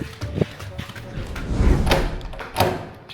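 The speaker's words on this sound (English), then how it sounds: "Jason, bro, came to fucking knock the door down." Someone banging hard on a bathroom door trying to break it down: a series of heavy thuds and knocks in irregular rhythm, close and loud, with a cluster of rumbling blows in the middle.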